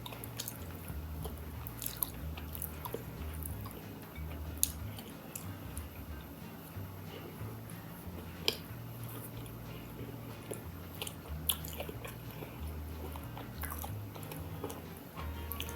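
Quiet, close-miked chewing of a Freshness Guaranteed mini cinnamon cake from Walmart, soft moist mashing in a steady rhythm with occasional small clicks of the mouth, no talking over it.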